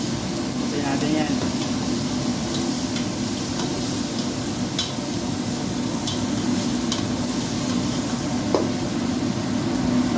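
Tomato, garlic and ginger paste cook in a pan for a beef biryani, a steady sizzle with scattered stirring clicks while a person talks quietly underneath.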